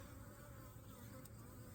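Honeybees around a hive buzz faintly and continuously, a soft, steady drone with no voices.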